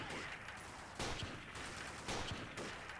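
Gunfire in the game Freeman: Guerrilla Warfare comes as a few loud, sharp volleys of shots, with near bursts standing out against a constant background of battle noise.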